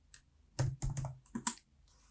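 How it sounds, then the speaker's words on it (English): A handful of separate clicks and taps on a computer keyboard, close and crisp, in short irregular bursts with quiet gaps between. "we're going to hit M on our keyboard"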